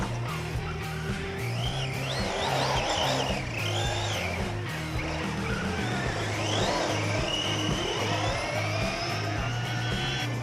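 A Traxxas Hoss RC truck drives and drifts with a continuous buzzing electric motor whine that rises and falls, mixed with tire scuffing on the surface, sustained and fairly close throughout.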